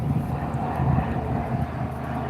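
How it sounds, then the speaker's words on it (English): A propeller airplane flying overhead near a gold-digging site, a steady low droning rumble that holds at an even, moderate level throughout with slight wind buffeting. "that's a different plane"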